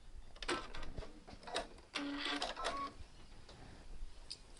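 Sewing machine back stitching a few stitches on a dress seam, short uneven mechanical clicks and brief whirs, fairly quiet and close.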